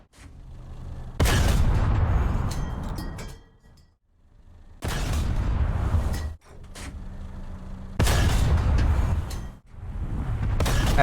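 Heavy tank cannon shots in War Thunder, the STA-3, three loud booming blasts each followed by a long rumbling roar that fades before the next, with no talking.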